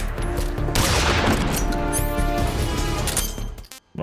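Gunfire in the Metal Gear Solid 3: Snake Eater video game, loud rapid shots and impacts packed over a few seconds against a ringing game score, then cutting off abruptly.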